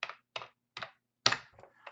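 Keys pressed on a computer keyboard, among them the Tab key: four or five crisp, close clacks spaced evenly apart, the last followed by lighter taps.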